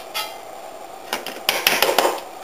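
A metal spoon clinks and scrapes against a pot of boiling redcurrant jelly while skimming off foam, a few light taps early, then a busier run of clatters near the end over a soft simmering hiss.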